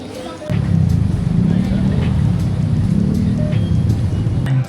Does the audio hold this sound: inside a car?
yes